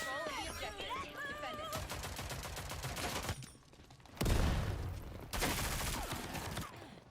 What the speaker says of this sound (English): Pushes in aggressive just to get some shots out.